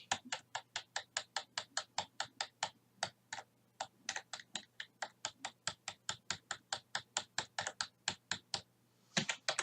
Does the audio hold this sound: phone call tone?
no